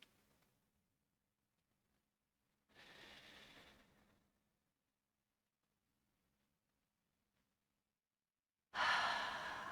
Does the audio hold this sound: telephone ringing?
no